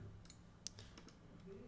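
Quiet, sparse computer mouse clicks while working in 3D modeling software, a few light isolated clicks with one sharper, louder click near the middle against a faint room hum.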